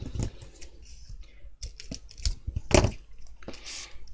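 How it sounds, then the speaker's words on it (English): A Tim Holtz paper trimmer slices through craft paper at a work table, with several sharp clicks and a louder snapping cut close by, followed by soft sliding and handling noises. "Now I've cut that straight"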